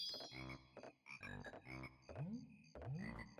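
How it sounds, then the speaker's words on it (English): Swamp frogs from Banjo-Kazooie croaking in a run of rhythmic bursts, several deep bubbly calls followed by two rising croaks, close and clear with no talk. "Okay, the swamp with the frogs."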